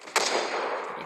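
Sniper rifle fired in the video game CoverFire: a single sharp, loud crack followed by a sustained, noisy echo that slowly fades over about a second.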